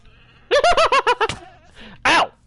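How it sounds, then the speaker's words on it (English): Several goats bleat in Minecraft Bedrock on PlayStation, a quick run of six or seven wavering nasal bleats followed by one longer bleat after a short pause, loud and close with no talk over them. "But we got goats."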